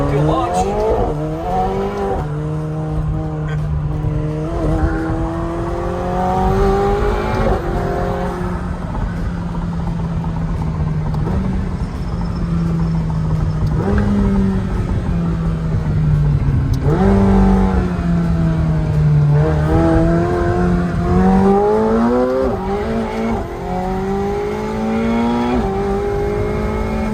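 A McLaren sports car launches hard with the auto start-stop switched off, its engine revving loudly and climbing through repeated gear changes over a heavy rumble, close and continuous, with occasional talk inside the car.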